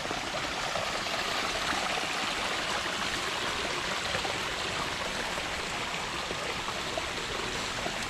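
Steady, dense rush of water flowing in a koi pond, a continuous close splashing wash with no pauses and no voices over it.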